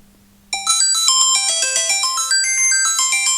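A smartphone rings with a bright melodic tone, set off by holding down the button on a small travel safety device; the tune starts abruptly after a brief hush and repeats loudly and steadily to the end.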